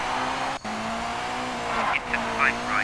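A car in a PS1 racing game skids under the handbrake, giving a rising squeal of tires over a steady engine drone, with brief chirpy slides toward the end.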